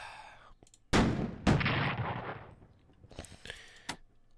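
Gunboats fire artillery in the Strategic Command: American Civil War strategy game, two sharp booming shots in quick succession that decay into a rumbling tail, then a fainter crackle.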